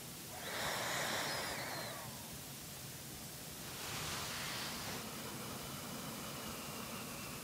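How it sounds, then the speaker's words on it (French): Pranayama breathing through the left nostril, with two soft, airy inhales standing out over a low background hiss, each lasting about a second and separated by a pause. "on inspire toujours de la narine gauche et on expire de 2"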